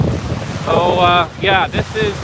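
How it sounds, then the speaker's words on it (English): Strong easterly storm wind gusts across Cameron Lake, roaring broadband rush buffeting the microphone near the water's edge, with someone speaking over it in short bursts. "I've never seen easterly winds this strong at Cameron Lake."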